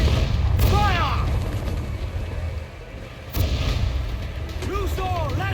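Ship cannons boom in a naval battle in Assassin's Creed 4 Black Flag, two heavy close blasts with rumbling tails over sea and crew noise, with a voice shouting between them.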